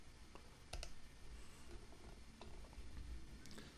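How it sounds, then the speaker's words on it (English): A computer mouse clicks on on-screen buttons, a few faint sharp clicks over low background hiss. "So let's click these buttons right here."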